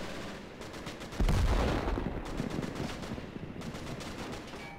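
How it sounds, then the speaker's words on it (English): A Pak 88 anti-tank gun fires in a World War II battle game: one heavy, booming shot lands sharply after a second, then rolls into a long rumble over a constant background of distant gunfire. "I think that was from a Pack 88. That was a hell of a shot."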